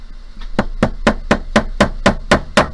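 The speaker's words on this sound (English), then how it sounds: "you can use a hammer to help you" A hammer taps a stone level in a jewelry bezel, nine evenly spaced sharp metallic taps in a steady rhythm, close and fairly loud.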